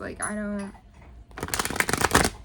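A tarot deck being shuffled, a brief rapid riffle of cards following a short spoken word, close and fairly loud.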